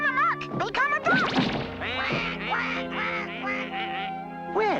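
A cartoon duck quacks repeatedly in quick, squawking bursts, close and loud, mixed with a few whacks and crashes amid a busy animated scene.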